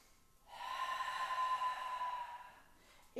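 A long, steady inhale through the nose during a Pilates exercise, a soft airy hiss lasting about two seconds, close and fairly quiet.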